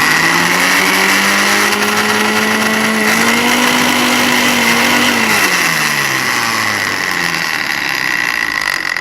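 An electric mixer grinds soaked moong dal into a thick paste, its loud high-pitched whirring motor running steadily throughout, the pitch dipping and shifting partway through as the load changes.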